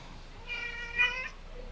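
A cat gives one drawn-out, moderately loud meow in a home garage where a Chevrolet S10 or Blazer Vortec V6 is under repair, with a brief quiet before and after the call.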